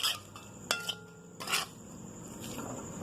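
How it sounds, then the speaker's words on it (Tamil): Squid thokku being stirred in a pan, with a few sharp metallic scrapes and clinks of the spoon against the pan over a soft, steady sizzle, close up and with no talking. "நம்ம கலந்து விட்டுக்கலாம்."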